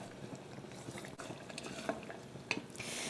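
Caramel is stirred with a wooden spoon in a pot, a quiet, continuous scraping and bubbling with a few soft knocks of the spoon against the pan.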